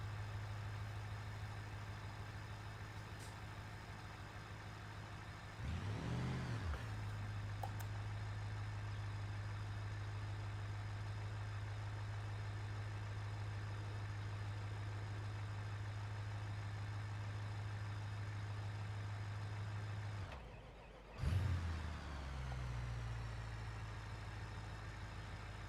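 A car engine idles steadily in the BeamNG driving simulator, a low constant drone held for the full stretch, with two brief surges or revs where the pitch shifts before settling back to idle.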